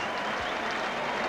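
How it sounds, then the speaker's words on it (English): Football stadium crowd roaring after a goal at a 1989 Port Adelaide versus Sturt match, a dense, steady wash of distant cheering and applause that fills the whole moment without a break. "Listen to the crowd."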